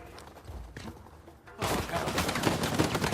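Rapid gunfire from a turret in Uncharted 4, quieter scattered shots at first, then a loud dense barrage of bursts from about halfway on.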